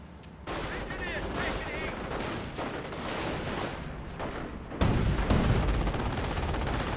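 Sustained gunfire from the Company of Heroes 1 battle rings out in a dense, continuous clatter of rifle and machine-gun bursts, with a sharp swell of louder shooting near the end, all under a light bed of battle noise.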